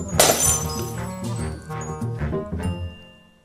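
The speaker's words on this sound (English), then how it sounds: "Sarah spent a happy afternoon smashing 4 Buckfast bottles and 2 ordinary wine bottles as a comparison" Glass bottles, Buckfast and ordinary wine bottles, are smashed: a loud crash at the start, then scattered clinks and tinkles of breaking glass that settle and fade.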